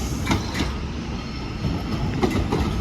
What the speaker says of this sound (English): arriving in now is grid 1524 Transparent Express service to Manchester Airport